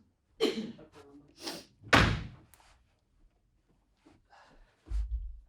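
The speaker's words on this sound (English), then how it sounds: "I'm just going to properly close that door because otherwise it'll snap closed." A door pushed firmly shut, with a few bumps and knocks as it is handled, then a solid low thud of the door closing near the end, close by in a quiet room.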